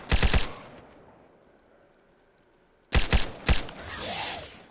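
Gunfire in the DayZ video game: a quick burst of three sharp shots, a pause, then two more bursts of loud close cracks, followed by a rising hiss.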